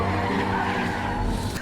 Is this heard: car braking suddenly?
yes